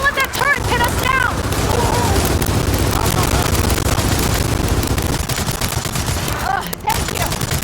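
Heavy turret gunfire pours out in Gears of War 4, a loud continuous fusillade of rapid shots with explosions, while voices shout over the battle.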